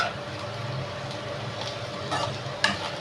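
Shallot chili paste frying steadily in hot oil, a continuous close sizzle with faint clinks and a brief sharper crackle near the end.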